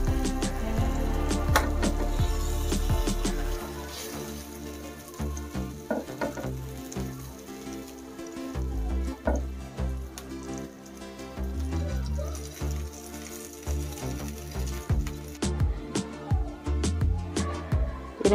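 Chicken kebabs frying in hot oil at home, a steady dense sizzle with bubbling and occasional clinks of handling, loud and continuous throughout.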